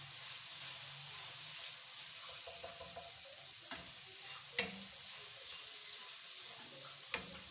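A teaspoon of garlic sizzles in a little hot oil, a constant hiss with a few faint stirring scrapes and two sharp clicks of a utensil against the pan.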